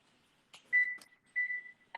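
Two short electronic beeps from a kitchen timer being set while cooking seafood paella, close and clear against a quiet kitchen, with a few faint button clicks around them.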